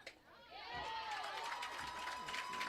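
Spectators at a Hollow Rock-Bruceton vs. Eagleville prep softball game cheer and shout in a rising, sustained roar, with whistle-like voices sweeping over the crowd noise.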